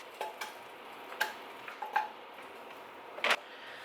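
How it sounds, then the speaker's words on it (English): Pierogies sizzle in bubbly, frothy melted butter in a pan, with a soft steady fry broken by several light clicks and ticks and one sharper clatter near the end. "I have melted some butter in the pan. It's nice and bubbly and frothy. So I'm gonna put my pierogies in here."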